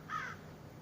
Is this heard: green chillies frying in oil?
no